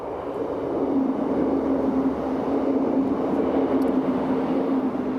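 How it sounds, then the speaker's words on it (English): A train runs through a station without stopping, producing a steady rumbling roar with a faint squeal, moderately loud and continuous for several seconds. "So this train is not going to stop at Denton."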